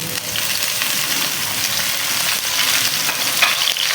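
Onion and dry spices frying in a pan for moong dal, a steady dense sizzle with light stirring scrapes, close and continuous with no talk.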